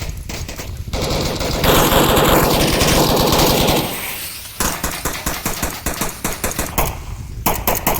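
Rapid gunfire in the Onward VR shooter during a competitive match, loud dense bursts of automatic fire followed by a choppy run of repeated shots with short gaps, close and continuous with no talk.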